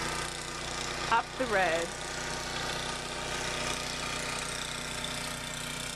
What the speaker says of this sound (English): So not sure how far up the road he goes with the snow blower